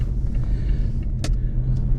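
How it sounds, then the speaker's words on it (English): Steady low rumble of a moving car heard from inside the cabin, with a brief brighter click or rustle midway and no talk. "we're in my car"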